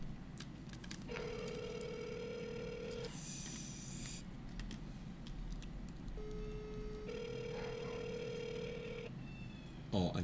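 Cell phone ringback tone on an outgoing call, two long electronic tone bursts separated by a pause, heard faintly over a low room hum with quiet voices in the background.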